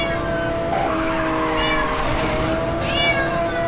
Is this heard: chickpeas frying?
no